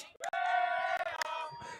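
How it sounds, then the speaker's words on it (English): Buckbeak Riders quadball team yelling and cheering from the bench at a match, a sustained group shout that rises loud and close, then breaks into scattered whoops and claps before fading. "I'm just here on the bench of Buckbeak Riders, and they are cheering like hell"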